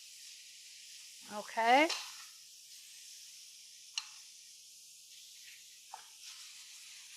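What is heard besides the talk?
cod fillet sizzling in pan after being turned over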